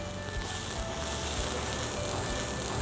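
Shallots and freshly shaved garlic sizzle in a pan as the finish for a herb pasta with salmon, giving a steady, close, continuous crackling hiss with no talking.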